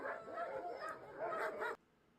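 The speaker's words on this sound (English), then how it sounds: "these dogs were going at each other for reasons" A pack of about a dozen dogs bark and yip at one another in an overlapping, continuous clamor. The noise stops abruptly after a moment.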